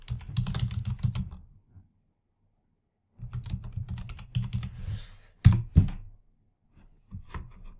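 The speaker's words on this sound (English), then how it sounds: "I go up into cell G1 and I type hello and then do Alt Enter" Close, crisp typing on a computer keyboard while entering text into an Excel spreadsheet, two bursts of quick clattering keystrokes separated by a pause, with a few heavier key thumps near the end.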